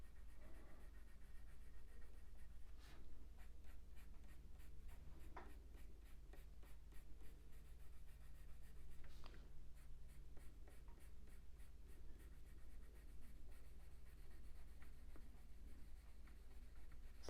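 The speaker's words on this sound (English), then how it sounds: "on this bit I'm using a bit less pressure with the pencil because I want to put other colours in there" A coloured pencil drawing a duckling on paper scratches in quiet, rapid back-and-forth strokes, with light pressure, steady and close, and a few sharper taps throughout.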